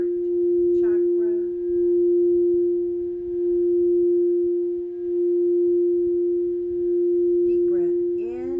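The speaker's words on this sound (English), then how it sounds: "settle into the sound of the bowl in your heart chakra" A singing bowl rings with a pure, steady sustained tone that hums on throughout, slowly pulsing in loudness, while a soft voice speaks briefly at the start and again near the end.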